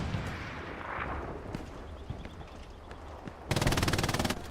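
A machine gun in the World War II shooter Hell Let Loose opens up in a dense, rapid burst lasting about a second, loud over a low rumble of distant battlefield noise.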